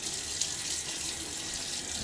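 A bathroom tap runs steadily into a sink as water is splashed on a face before shaving, making a constant close hiss with no pauses.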